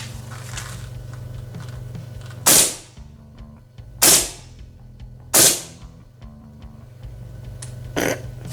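A King Arms M1 Carbine gel blaster fires three sharp, close shots at even intervals of about a second and a half, then a softer fourth pop, over a steady low hum.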